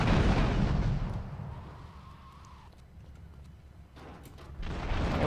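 Rocket explosions in the video game GTA III, a heavy booming blast that fades over a couple of seconds before another burst swells up at the end.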